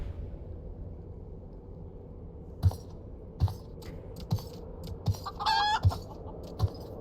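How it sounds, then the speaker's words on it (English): A small green chicken in a game clucks in a string of short, separate pecking calls at a slow irregular rhythm, one brief squawking flurry among them, over a quiet low background hum. "Got a little chicken there."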